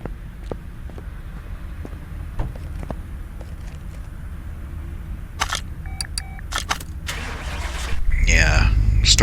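In Car Mechanic Simulator 2018, a pickup truck gives a series of clicks and mechanical taps, then its engine cranks and catches, rising into a louder running rumble at the end.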